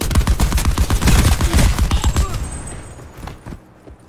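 Rapid bursts of Titan light machine gun fire in Call of Duty Black Ops 4 hardcore multiplayer, loud and dense for over two seconds before tapering into scattered distant shots and quieter game ambience.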